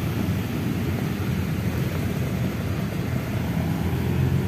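A DJI Mini 3 Pro drone flying outdoors in Point of Interest mode gives off a steady, broadband whirring buzz of small propellers with no pauses and no talking.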